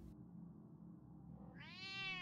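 A cat in Batman: The Telltale Series gives a single rising, drawn-out meow near the end, loud and close over a low steady game background hum.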